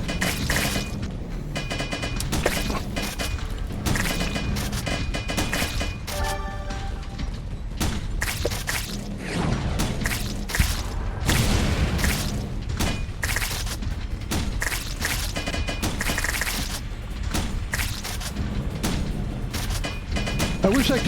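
Repeated shotgun blasts in the Wall World game, rapid dense volleys of booming shots firing steadily under someone talking.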